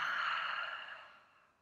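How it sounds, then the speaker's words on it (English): A single loud exhale pushed out through the mouth during yoga breathing, a breathy rush that starts strong and gradually tapers off over about a second and a half, close to the microphone with no talking. "Breathe in through the nose, out through the mouth. Give it a nice loud breath."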